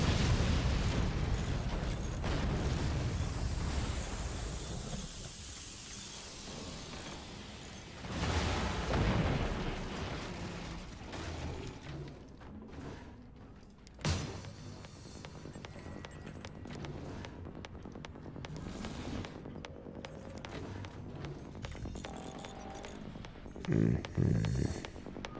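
Artillery shots and explosions in the video game Forts, with a heavy rumbling blast at the start, several more booming impacts spread throughout, and lighter clattering debris between them.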